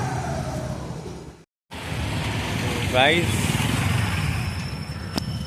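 A scooter engine cold-starts and settles into a steady buzzing idle up close, with a brief cut in the sound and a rising whine as it catches, under someone talking.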